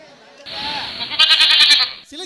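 A goat bleats loudly and close by in a wavering, drawn-out call, heard amid a Tamil stage drama, with voices around it.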